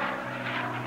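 Racing airplane engine at the 1979 Reno Air Races roaring steadily as the lead plane flies all out around the pylons, a continuous loud drone with no pause over the full second.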